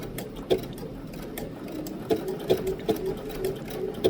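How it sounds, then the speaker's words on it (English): Bernina 790 P sewing machine stitching the back stitch on a button with foot number 18, a steady close mechanical whir punctuated by several sharp needle thumps. "now I'm ready to sew the back stitch"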